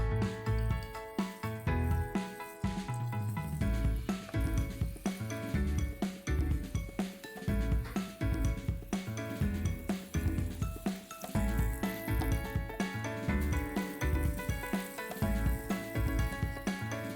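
A dollop of moong dal pakoda batter is tested in hot oil, producing a continuous crackling sizzle with bursts of bubbling and occasional clinks of utensils nearby.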